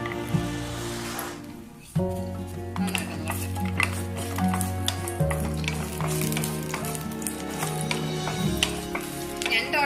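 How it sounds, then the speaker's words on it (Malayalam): Steady crackling sizzle of cashews and raisins frying in hot ghee for payasam, close and continuous, with occasional clinks of a utensil against the pan. "നമുക്ക് ഈ അണ്ടിപ്പരിപ്പ് നമ്മുടെ മുന്തിരി ഒന്ന് വറുത്തെടുക്കാൻ വേണ്ടിയിട്ട് മുന്തിരി ഇട്ട് കൊടുക്കാം."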